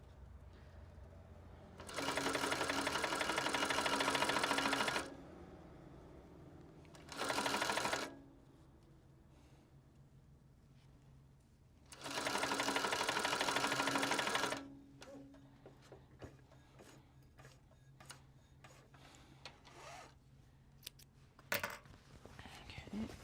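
Sewing machine stitching a belt bag made from Japanese fabric, running in three loud bursts of a few seconds each, separated by quiet pauses with faint handling noises and soft talk.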